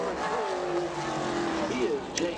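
A Ford modified race car on a qualifying lap at Bowman Gray Stadium, its engine droning and shifting in pitch beneath an announcer talking.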